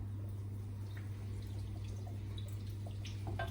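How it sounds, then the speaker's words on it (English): A splash of balsamic vinegar poured into a pan for a steak and Stilton pie filling, a soft steady liquid trickle with faint drips, near and fairly quiet over a low background hum. "I've got some balsamic vinegar, and the recipe says to add a big splash"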